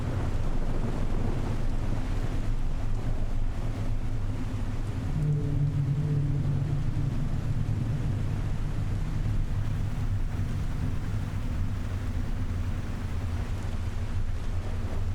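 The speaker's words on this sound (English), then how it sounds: "At night, in a storm." Storm wind roars and waves wash continuously around a ship at night in The Last Caretaker, a dense, steady rumble with a low engine-like drone underneath and no break throughout.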